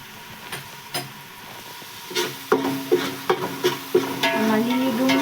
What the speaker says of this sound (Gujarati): થોડીક વાર માટે સોતે કરી લઈએ.